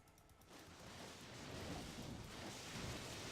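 Lightning Fury skill attack in Diablo II striking a large pack of monsters: a crackling, thunderous roar that swells after a brief quiet start and rumbles on steadily to the end.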